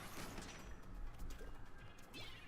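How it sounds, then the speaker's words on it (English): A Fizzy Bang explodes in Splatoon 3 amid a dense burst of crashing, crackling impacts and splattering noise, short and fairly loud with no talking over it. "Died to a Fizzy Bang."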